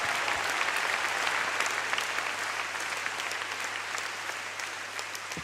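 Sustained audience applause fills the space at a steady, dense level throughout, a broad wash of many hands clapping with no speech over it.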